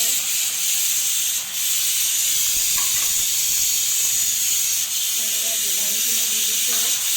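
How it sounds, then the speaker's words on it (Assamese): Chopped brinjal sizzles in a pan of frying pork, a loud, steady hiss that runs throughout, while a person talks over it. "এতিয়া আমি এয়া কাটি থোৱা বেঙেনাখিনি দি দিছোঁ।"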